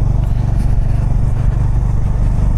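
A motorcycle on a Kalimpong to Siliguri road trip rumbles steadily and loudly, constant engine drone with wind noise, no talking.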